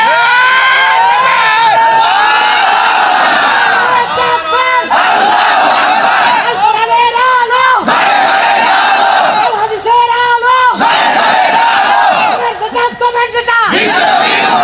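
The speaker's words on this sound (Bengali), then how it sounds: "তাহলে 2 হাত তুলে একটা তাকবীর দেন" A large crowd at a Bangla religious sermon gathering in Rangpur shouts the takbir in repeated loud collective bursts, roaring and filling the space, with brief pauses between the chants.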